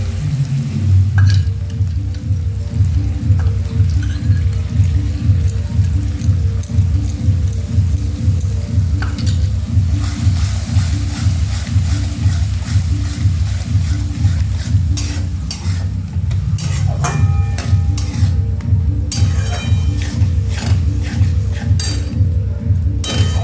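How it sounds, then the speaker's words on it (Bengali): Whisked yogurt sizzles in frying spice paste over a lowered gas flame for chilli paneer, a continuous close hiss with rhythmic stirring scrapes and occasional clinks of the utensil against the pan. "এবার একটু গ্যাসটা আস্তে করে দইটা দিয়ে দিলাম।"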